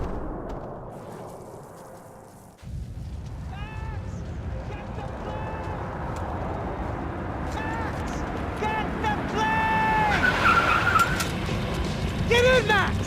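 A car revs and skids during a chase in the video game Max Payne 3, a roaring engine building steadily under tire squeals and sharp impacts, with shouting voices over the action.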